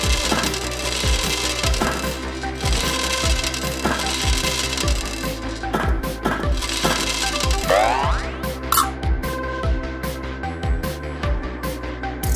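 Balls and spheres dropping through a chain-reaction contraption, a rapid series of sharp clicks and clacks on wood and metal, evenly spaced impacts over a steady musical backing, with a brief rattling cascade near the end.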